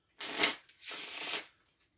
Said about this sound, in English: They shuffle the cards